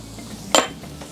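Garlic is added to a paella pan over a Kadai fire bowl, with one sharp metallic clink of a utensil against the pan over a soft background sizzle.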